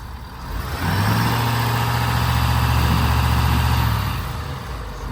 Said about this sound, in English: we have to test out every vehicle we own to see if it does a burnout